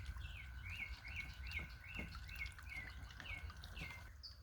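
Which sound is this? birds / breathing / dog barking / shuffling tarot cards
birds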